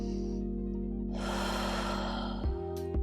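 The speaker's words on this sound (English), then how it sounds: "And take a deep breath." A single deep breath during a morning yoga stretch session: a soft, drawn-out airy exhale that swells and fades over a steady low hum, with a brief click near the end.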